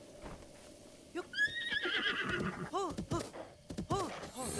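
A horse in the game Breath of the Wild whinnies with a rising, quavering call, followed by a few snorts and hoof clops, close and fairly loud with a low background.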